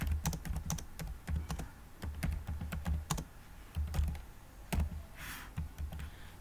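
Keys clatter on a computer keyboard as text is entered into a Word shape, an irregular run of close, crisp clicks with short pauses between bursts.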